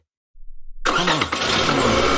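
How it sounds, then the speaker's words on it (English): Truck engine cranking and catching in an animated series, a sudden start after silence that settles into a loud, rough, rumbling run. "Turn on the truck and see what's working."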